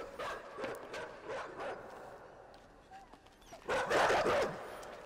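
Dogs in the video game INSIDE bark and yelp in several sharp bursts, with a louder, fiercer cluster of barks near the end over a noisy background.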